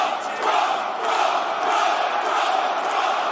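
A wrestling crowd in Boston roars steadily, a dense, loud wash of cheering and shouting that holds throughout without letting up.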